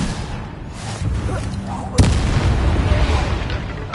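Spell explosions boom in the Hogwarts Legacy video game, with rumbling bursts and a sharp loud blast at the midpoint, mixed with voices speaking.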